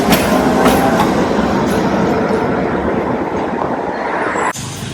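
A tram or train runs along a street in Belgrade, a steady loud rolling rumble with faint rail clatter that holds the whole time, then drops off abruptly near the end.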